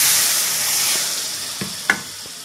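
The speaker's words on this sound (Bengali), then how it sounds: "মশলা কষানো হয়ে গেছে," Spice paste of roasted cumin and turmeric frying in hot oil in a pan, giving a steady close sizzle and hiss with a couple of brief stir clicks near the end.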